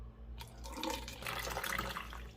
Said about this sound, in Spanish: lo que voy a hacer es llenar mi recipiente con agua, así que lo llenaré